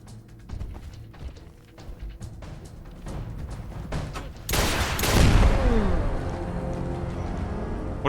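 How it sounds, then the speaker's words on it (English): A Gauss rifle fires in a post-apocalyptic video game: sparse clicks and mechanical taps give way to a sudden loud, sharp discharge followed by a roaring, rumbling tail with a falling whine, close and without talk. "What, he's firing Gauss rifle?"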